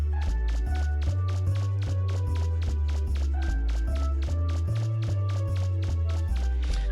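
Mega Man trudges along in Mega Man Legends with soggy, squelching footsteps, a steady rapid run of wet steps over a looping game music bed.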